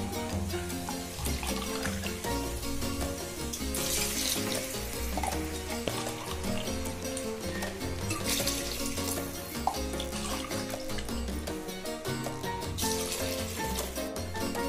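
Water poured into a pot of vegetable biryani base, a continuous rushing pour mixed with steady sizzling and stirring throughout, moderately loud with no talking.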